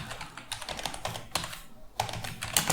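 Someone types a description on a computer keyboard: rapid, uneven bursts of close, crisp key clicks with a brief pause partway through.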